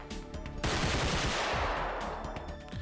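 Gunfire rattles through a realistic shooter video game, a sudden loud burst of rapid automatic shots that sets off a dense volley, carries on steadily, and then thins into scattered reports.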